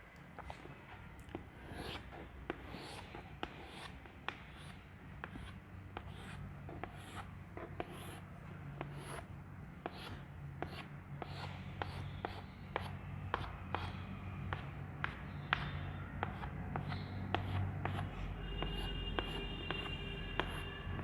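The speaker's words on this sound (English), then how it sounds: "Here I am drawing a leaf of a hibiscus plant." Pencil scratching across paper while a hibiscus leaf is drawn, a steady run of quiet, close strokes repeating in short bursts with no one talking.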